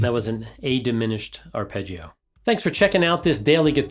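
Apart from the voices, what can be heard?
None of the usual background noises is heard.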